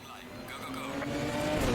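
A Ginetta race car's engine in Assetto Corsa Competizione drones steadily, its pitch climbing gradually while a voice talks over it, with faint tire noise beneath.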